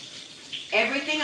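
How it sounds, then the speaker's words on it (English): Tap water starting to run into a sink for handwashing, a soft hiss that jumps to a fuller splashing flow near the end, close and moderately loud. "So now it means I need to wash my hands because I touched gold."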